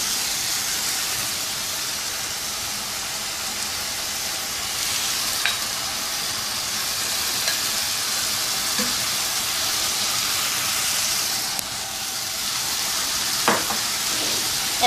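Spaghetti added a little at a time and stirred into chicken and vegetables frying in a pan, giving a steady, loud sizzle with occasional scraping clicks of the spoon throughout.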